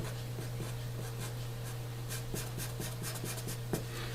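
A marker scratches and squeaks across a board in short strokes while wires are drawn in a physics diagram, close and quiet over a steady low electrical hum.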